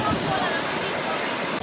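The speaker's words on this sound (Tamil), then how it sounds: "இது வந்து ஒரு ஆர்டிஃபிஷியலான ஒரு அருவி தான்" Artificial waterfall in a desert garden in Dubai, a steady, loud broadband rush of falling water that fills the whole clip without pause, with possible faint voices blended into the roar.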